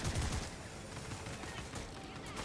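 Gunfire from Starship Troopers: Ultimate Bug War! rattles in a fast, dense fusillade like machine-gun bursts. It is fairly faint and sits in a steady wash of battle noise.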